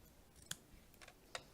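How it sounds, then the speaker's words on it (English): Scissors cutting paper pieces down to size in a quiet room, two crisp close snips about a second apart with faint rustling between. "And then you can just cut these down to whatever size you want."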